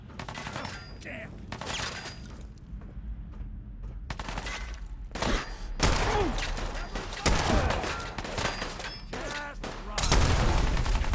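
Repeated bursts of gunfire from Fallout 4 combat crack through the scene, with several loud volleys and single shots in an irregular rhythm, mixed with game effects as voices talk over and between the shots.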